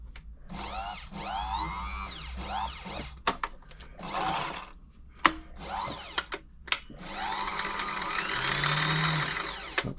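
A Frister & Rossmann 904 sewing machine runs with its needle moving left and right, giving bursts of fast mechanical whirring and clatter broken by short pauses and sharp clicks, close up with no talk.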